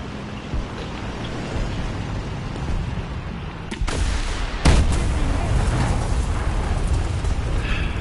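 Loud rumbling battle noise in War Thunder with a rocket hit, a sudden sharp blast near four seconds followed by another impact and sustained heavy roar.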